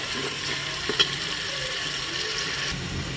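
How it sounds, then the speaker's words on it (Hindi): Ginger-garlic-coriander paste with biryani masala frying in a pressure cooker, a steady close sizzle with a faint clink near the start, no voices. "और अच्छे से सभी चीज़ों को हम फ्राई कर लेंगे"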